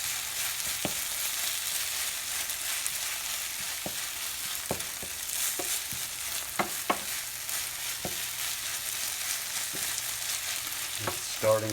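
Feta cheese frying in a hot pan gives a steady sizzle, with occasional sharp clicks and scrapes as it is tossed and stirred, close and moderately loud with no talking.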